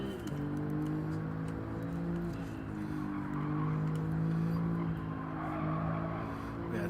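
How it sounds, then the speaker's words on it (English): Steady, loud race car engine howl in Gran Turismo 7 during a time trial, holding a high droning pitch with slight rises and dips throughout, with faint ticking clicks layered on top. "lower the volume so that way the car's not screaming in my ears"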